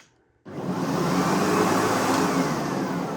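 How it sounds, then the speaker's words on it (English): A vacuum cleaner with a flexible stretch hose and handle control switches on after a brief silence, and its motor settles into a loud, steady whooshing whir that continues evenly. "It's a very pleasant motor sound."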